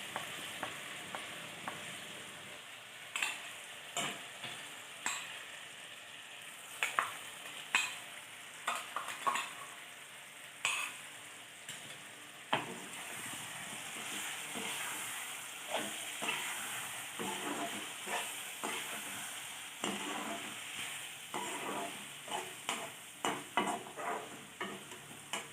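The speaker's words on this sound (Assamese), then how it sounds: "আৰু আমি পিচি লোৱা জলকীয়া নহৰু আদা এইখিনি এতিয়া দি দিম" Ground chilli, garlic and ginger fry in hot oil for a pork dish, a steady sizzle broken by repeated scrapes and clatters of stirring, close and fairly loud with no talking.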